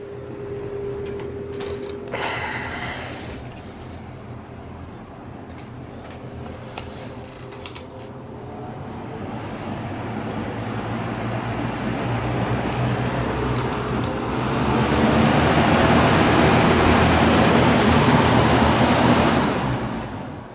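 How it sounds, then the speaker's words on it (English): A vintage Lasko box fan with a single-piece motor mount runs steadily, its motor hum resonating through the frame under a broad rush of moving air that swells louder toward the end. "old Lasko box fans with the single piece motor mount really have a nice motor sound to them"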